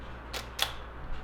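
A camera shutter fires at a slow shutter speed during a photography class, making two distinct close clicks about a quarter second apart, with a faint third tick after them and no talking.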